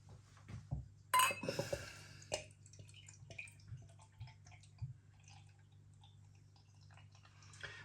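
An Aleworks IPA bottle clinks against a glass as the beer is swirled and poured, a bright glassy chink followed by dribbling pours and small knocks, close and fairly quiet over a low hum.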